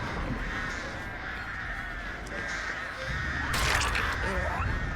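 Crows cawing in Dead by Daylight, harsh repeated caws over dense game ambience, with a louder burst of cawing and flapping toward the end.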